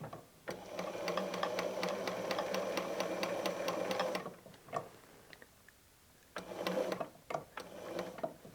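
A sewing machine stitches a paper-pieced snowflake quilt in rapid, even bursts of ticking needle strokes, running for about four seconds, pausing with a few isolated clicks, then starting again for a shorter run.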